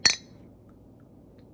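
Glasses clink together once in a toast over a home-cooked pork roast dinner, a bright sharp chime that rings briefly and fades into quiet room tone.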